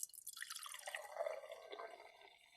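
Grape and coconut drink being poured into a glass, a faint close trickle of liquid that thins and fades over a couple of seconds, no talk.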